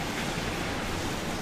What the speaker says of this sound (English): just taking in the sun and the surf and the seagulls